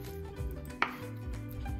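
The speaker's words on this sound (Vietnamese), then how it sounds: "Rồi cứ như thế mà mình xắt cho đến hết cái thịt này ha" Knife chopping through grilled pork with fat and lean on a cutting board, a few soft, irregular cuts with one sharper knock, quiet and close with no talking.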